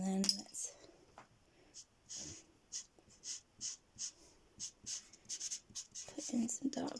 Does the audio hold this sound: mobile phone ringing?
no